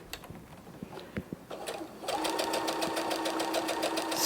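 A domestic sewing machine stitches in a quick, steady mechanical whir of regular needle strokes, starting about halfway through after a few soft handling clicks and taps, close and moderately loud.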